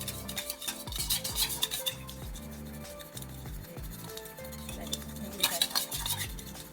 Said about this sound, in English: We are going to give this a mix until the MSG has dissolved.